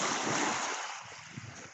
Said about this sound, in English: Can you hear the rhythm and the waves?